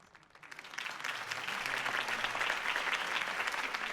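Crowd applause rises after a campaign speech in the video game Batman Telltale, swelling from scattered claps into sustained, dense clapping from a large audience that carries on steadily to the end.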